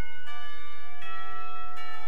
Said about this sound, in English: The bells heralding the end of school makes me jump in my seat.